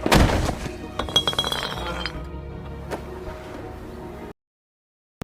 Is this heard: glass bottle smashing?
yes